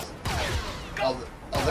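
Blaster fire from a Star Wars: The Bad Batch episode crackles in several sharp bursts, punctuating a scene with a voice talking beneath the volleys, loud and close.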